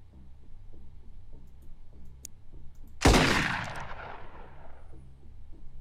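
A single loud gunshot boom in a video game, sharp onset decaying over a couple of seconds above a quiet low game soundtrack pulse.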